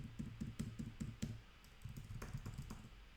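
Rapid bursts of computer keyboard typing, quick clattering key taps close by, pausing briefly in the middle before resuming.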